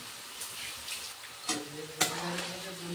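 Chopped onions sizzle gently in a pan and are stirred, with a soft, steady frying hiss broken by a few clinks and scrapes of the spoon.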